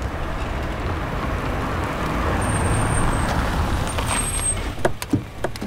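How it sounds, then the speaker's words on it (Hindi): A car slows and pulls over to the roadside, tyres rolling over a steady broad road rumble, with a few short thumps near the end as it comes to a stop. "ए श्रीधर, गाड़ी साइड में रोको।"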